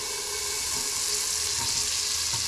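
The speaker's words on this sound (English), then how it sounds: "Put the butter in, it's going to go tss." Two tablespoons of butter hit a hot pot, giving a steady, bright sizzle that holds evenly throughout, fairly loud and close with no voices.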